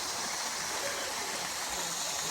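Steady broadband rush of a waterfall at Big Woods State Park, Minnesota, heard as continuous even water noise throughout, fairly distant and uniform with no voices.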